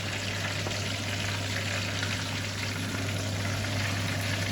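Stuffed chillies filled with keema and potato fry as a second batch in hot oil, giving a steady, dense sizzle that stays close and even throughout, with a low hum beneath and no talking.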